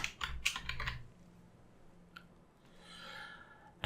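Brief burst of computer keyboard typing as a layer name is entered in Photoshop, several quick clustered clicks up close, then near silence with a faint soft rustle toward the end.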